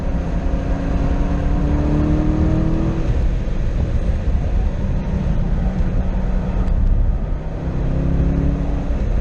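Corvette C6 Z06 engine on a race track, loud and sustained as it revs up through the gears, with rising pitch sweeps broken by a brief dip at a shift, heard from inside the car without talking.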